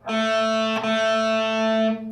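Distorted electric guitar plays two notes on the fourth string at the seventh fret, a sustained loud tone with a brief break near the middle before ringing on and cutting off.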